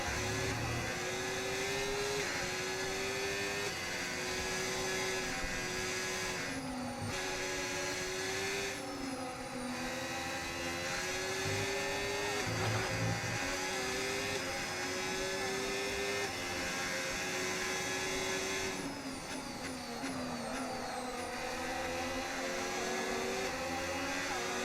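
Race car engines in the F1 25 game at the Saudi Arabia circuit drone continuously at high pitch, with steady revving, gear-shift steps and other cars passing close by.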